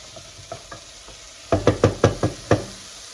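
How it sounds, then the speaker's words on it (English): Chopped tomatoes tipped into a hot pan of sweating vegetables and stirred, giving a few soft knocks and then a burst of six loud, closely spaced clatters and scrapes, with no talking. "Throw your tomatoes"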